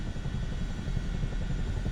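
Aircraft engine drone during a landing in Microsoft Flight Simulator 2024, a steady low rumbling hum, loud and continuous, with no voices.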